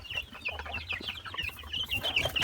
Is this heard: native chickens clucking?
yes